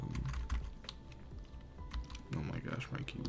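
Rapid computer keyboard typing, close and fairly loud, with irregular bursts of key clicks and clatter under a voice talking over it.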